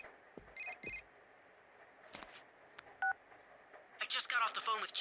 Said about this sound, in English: I just got off the phone with Chie